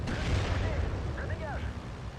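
A Spitfire Mark 8 bombing run in Steel Division 2, with booming blasts and rumbling explosions under a voice, plus brief whistling, swooping tones overhead.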